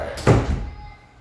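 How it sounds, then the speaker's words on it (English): A door pushed shut indoors, one close, dull thunk with a short latch knock, followed by a brief fading room tail. "let me shut the door a little bit"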